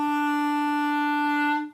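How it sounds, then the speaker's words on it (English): A clarinet sustains a single steady low E note on the bottom of its range, held clear and even for under two seconds before cutting off, with no voices. "I'm going to show you an example right now on the clarinet."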